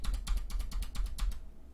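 The left shift key of a Deck Francium Pro 87 mechanical keyboard is pressed repeatedly, giving about nine crisp, close clacks in a quick steady rhythm that stops just before the end.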